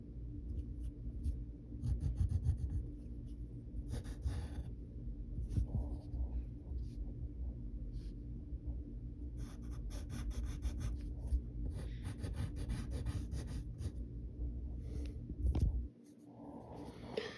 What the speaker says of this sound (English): we're going to draw his sleeve